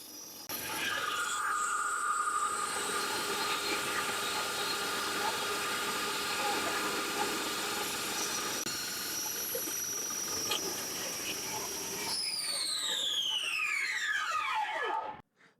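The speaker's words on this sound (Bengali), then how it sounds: "দেখতে পাচ্ছেন মেশিনটি কিন্তু স্টার্ট হয়ে গেছে।" An electric masala and flour grinding machine runs steadily with a loud whirring hum and hiss for about twelve seconds, then winds down as its pitch falls away before cutting off.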